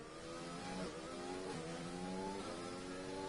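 Several F1 2020 race cars scream at full throttle through a street-circuit exit in the video game, their rising engine notes layered and steadily climbing, loud and continuous with no talk.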